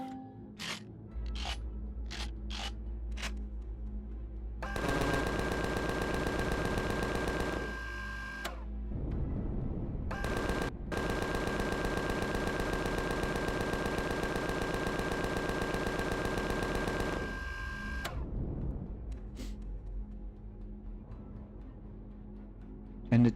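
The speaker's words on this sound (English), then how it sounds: "Now we can use the guns." Turret guns fire in the space survival game Empyrion Galactic Survival: a few separate shots open, then two long rapid-fire bursts hammer away loudly, with a short break between them.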